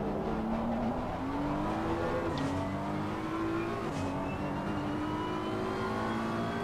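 A rotary-engine race car in a sim racing game screams at high revs, its pitch climbing steadily and dropping sharply at two gear shifts, loud and continuous throughout.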